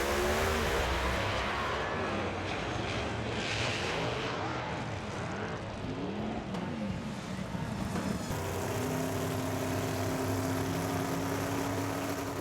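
Pro Modified drag race cars on track at a St. Louis event, loud engine roar that holds steady and shifts in pitch as the cars run, rising and falling like passing vehicles, with no talk.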